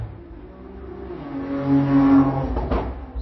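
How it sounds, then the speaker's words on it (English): A car passing by on a busy main road close to a house, a low engine rumble and tire noise swelling to a peak and fading away over a few seconds, with no talk. "sorry, a car passed by"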